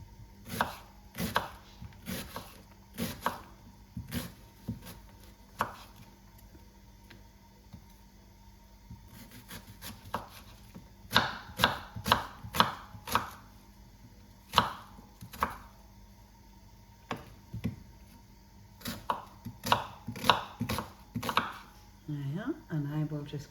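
A knife slicing through an onion on a cutting board in a home kitchen, with a series of sharp, close chopping taps in irregular bursts and brief pauses between them.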